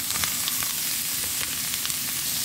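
Tomatoes drop into a hot pan of ginger paste, salt and salmon, giving a steady, loud sizzle and fry with faint stirring clicks throughout.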